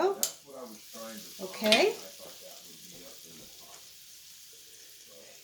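Apple fritters made with Bisquick batter fry in hot oil with a steady sizzle, while a few utensil clinks and a brief spoken word break in near the start.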